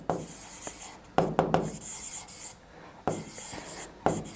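Marker or chalk strokes scratching across a classroom board, loud and close, in uneven bursts of short rubbing strokes broken by brief pauses, with no talk.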